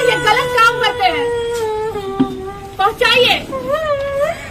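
A young girl cries and wails in long, quavering sobs with broken whimpers, loud and close, continuing in uneven bursts throughout.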